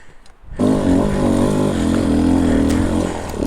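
Motocross bike engine on an MX track, starting up and then revving hard and steady at close range, a loud buzzing roar with rising and falling pitch as the rider works the gears.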